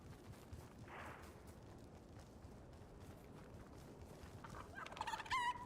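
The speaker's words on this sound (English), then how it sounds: "That's a chicken! Hi, Mr. Chicken." A chicken in a video game clucks briefly, one soft call early on and a sharper burst near the end, over a steady bed of game ambience and noise.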